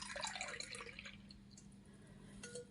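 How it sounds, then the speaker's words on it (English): Tea is poured into a cup as a soft, close trickle with faint dripping and splashing, quiet and steady, then tapering off. "So I'm going to pour a cup of tea."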